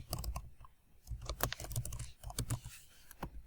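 Code being typed on a computer keyboard, quick irregular bursts of close key clicks with short pauses between them.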